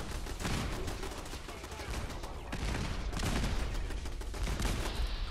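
Turret gunfire in Fallout 4, a dense, steady spray of rapid shots and impacts that stays loud and continuous throughout.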